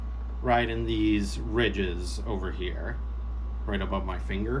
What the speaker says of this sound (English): apologies for the background noise, but nothing I can really do about it because it's really humid today, and I'm not going without my AC